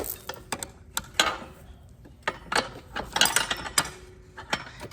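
Bolts being tightened back up on farm equipment with a ratcheting wrench, giving a string of close, irregular clicking ratchet bursts with short pauses between turns.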